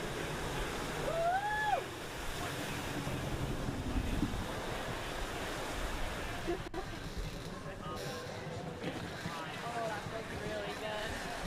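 Steady wind gusts across a lake at a water ski championship, a constant broad rush and buffeting on the microphone, with people talking and faint background sounds mixed in.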